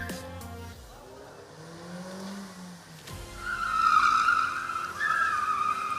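A rally car at a ladies' event launches off the start line, its engine revving up with tires skidding and squealing, heard at a distance as it pulls away.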